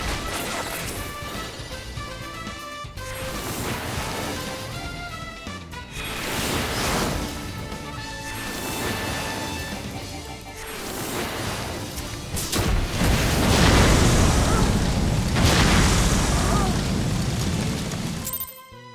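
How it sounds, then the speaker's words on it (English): A bombshell drop in a video game sets off heavy crashing booms and smashing bursts, loud and sustained across the whole stretch and swelling near the end amid dense game noise. "Bombshell drop."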